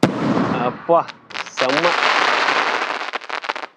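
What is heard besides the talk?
4-inch Sivakasi firecracker bursting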